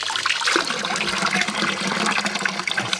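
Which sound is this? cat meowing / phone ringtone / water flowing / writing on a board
water flowing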